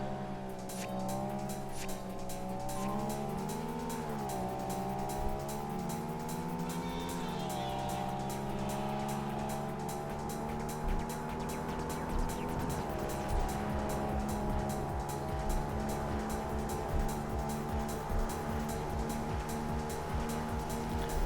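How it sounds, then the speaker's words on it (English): A Mitsubishi Evo on slick tires races on snow in Tokyo Xtreme Racer 3, its engine droning steadily and shifting pitch through gear changes, with continuous tire noise underneath. "Oh great, I'm racing an Evo in the snow, and I got the slick tires on."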